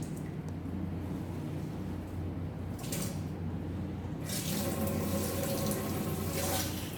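Water running steadily into the tank of an automatic film processor, a continuous splashing hiss that swells louder in the last few seconds.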